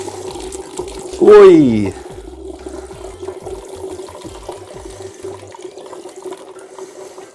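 Homemade tepache of fermented pear, juniper and pineapple rind pours from a tall bottle, splashing nearby over a steady background hum. The pour sits under a brief, loud shouted exclamation.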